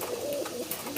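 Racing pigeons of the merpati tomprang breed coo at a race in Karang Watu, Muntilan, giving short, soft, throaty notes that repeat several times close by.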